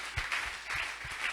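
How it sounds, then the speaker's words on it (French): A church congregation applauding, a short burst of soft, distant clapping with an uneven rhythm, fairly quiet overall. "est-ce que nous pouvons acclamer quand même pour se détendre un peu?"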